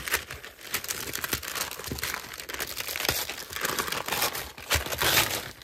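Paper packaging being ripped open during a haul of vintage junk journal supplies, close crinkling and tearing in quick irregular bursts, fairly quiet with no voices.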